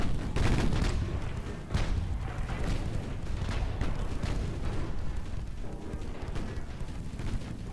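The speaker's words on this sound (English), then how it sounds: "It's just a straight up CA gunnery slugfest." Heavy cruisers trading 7-inch main-gun fire in a naval battle in Ultimate Admiral: Dreadnoughts, a dense rumbling barrage of repeated booms and crackling blasts, loud and continuous with overlapping salvos.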